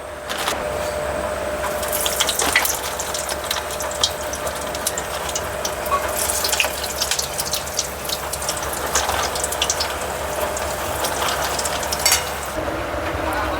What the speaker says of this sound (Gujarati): તો ચાલો આને ફ્રાય કરીએ.